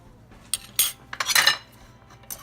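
A metal spoon scrapes and clinks against a pan and plate while scooping a tuna omelette, with a few sharp taps and a longer scraping stretch, close and clear with no talking.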